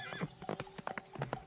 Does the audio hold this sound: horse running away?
yes